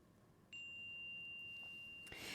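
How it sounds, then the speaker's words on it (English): A meditation chime strikes once, its clear sustained tone ringing out and lingering steadily over quiet room noise before a soft rustle near the end. "I'm going to invite our chime to sing"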